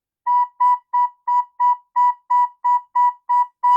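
Recorder sounds a single note B in eleven short, evenly spaced detached toots forming a dashed-line pattern, clear and close with nothing else heard.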